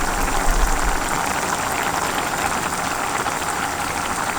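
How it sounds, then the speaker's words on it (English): Venison bolognese sauce simmering in a pot gives a steady close bubbling and popping hiss, continuous and even throughout with no voices. "And then I will leave the sauce cooking slowly for about 30 minutes"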